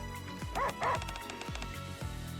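Max, a dog in the video game NIKKE, lets out a run of short barks and yips, several quick sharp calls spaced across a couple of seconds, close and moderately loud over a steady game background.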